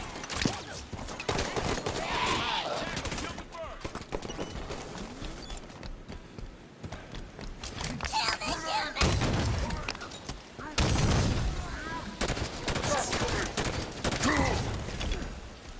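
Dense Halo 5 combat gunfire, bursts of automatic weapons and booming shots layered continuously throughout, loud and close, with brief voices mixed in amid the action.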